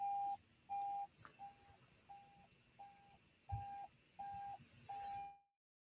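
An alarm beeps in a repeating pattern of eight short electronic tones at a steady rhythm, moderately loud in a quiet room, with a soft click partway through before the final tone ends and it falls silent.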